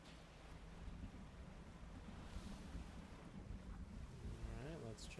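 Open ocean ambience from the fishing game Dredge: a steady wash of waves and wind around a boat on the water, continuous and fairly loud throughout, with a brief rising tonal sweep near the end.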